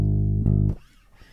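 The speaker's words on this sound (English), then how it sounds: "And then the A flat sounds like this." An A-flat on electric bass rings out as a single deep, sustained note for under a second, then cuts off abruptly, leaving near silence.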